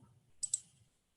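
Two sharp, faint clicks from a computer keyboard key and mouse sound in quick succession over near-silence.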